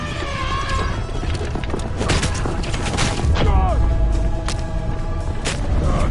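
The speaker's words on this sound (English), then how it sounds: "I'm shooting as fast as I can" A rapid, dense volley of shots and impacts rings out during a chase with pursuing Roman chariots in a video game, with clattering hooves, rumbling wheels and voices talking over the action.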